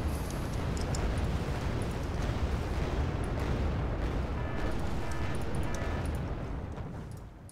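Incoming artillery fire in the video game Wargame Red Dragon: a dense, loud, continuous barrage of rumbling blasts and crackling bursts that keeps up without pause, fading a little at the very end.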